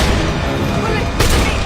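Pistol gunfire erupts in a film shootout, loud and close, with a rough, continuous clatter and a sharper burst near the end, while a narrator keeps talking over it.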